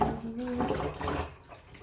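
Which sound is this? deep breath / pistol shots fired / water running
water running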